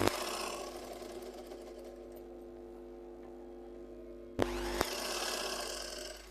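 Sewing machine stitching a garment near the shoulder seam, a steady mechanical whir with a humming drone that runs for about four seconds, a brief clunk, then the motor resumes.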